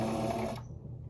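A sewing machine stitches a cut-out fabric letter M onto a thrifted shirt, a steady close mechanical whir that runs for about half a second and then stops.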